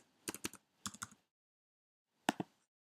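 Quick keystrokes on a computer keyboard entering an Apple ID and password, arriving in three short bursts of several clicks each with pauses between, close and clear with no talking.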